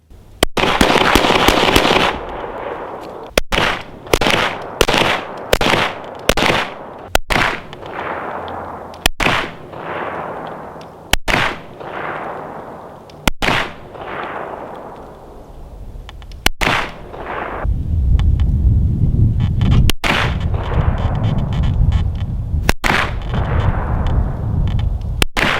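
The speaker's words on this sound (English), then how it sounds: "So shooting from multiple distances, as you guys saw in real time, there were some rounds that went where I didn't want them to go" A handgun fired at a range from multiple distances, with a rapid opening burst and then loud single and paired cracks spaced a second or two apart, while a steady rumbling background rises toward the end.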